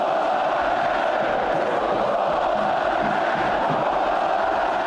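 Football fans of the Palmeiras side roar and shout together in stadium stands, a dense, loud, sustained crowd chant with no break.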